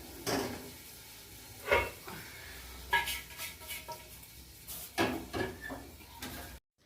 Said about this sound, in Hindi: गैस पर तवा तो मैंने चढ़ा दिया है।